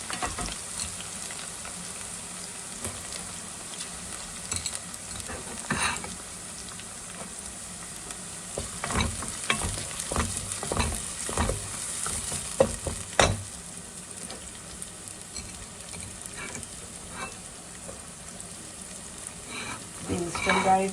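Ginger and garlic sizzle in hot oil for a Kerala-style sweet lemon pickle, a steady crackling fry with occasional stirring scrapes and a faint voice now and then.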